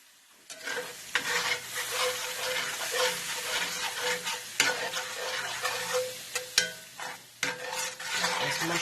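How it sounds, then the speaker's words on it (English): Mushrooms and broth stirred in a sizzling frying pan, a steady bubbling fry with irregular scraping clicks of the spoon against the pan, close and fairly loud throughout. "There's mushrooms stirred in there."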